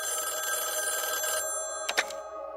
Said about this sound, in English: It opens with a phone call.